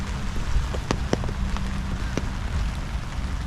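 Sleet and rain falling steadily on a lake park, a soft continuous patter with a few sharper drop ticks close by and a low wind rumble beneath, no voices.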